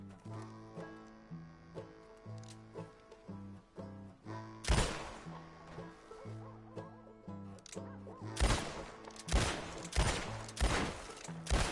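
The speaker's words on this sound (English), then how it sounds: "You keep shooting, sir, and this time you kill the beast" Gunfire in Red Dead Redemption 2, loud sharp shots bursting in a cluster midway and a rapid volley near the end, over a steady layered musical backdrop.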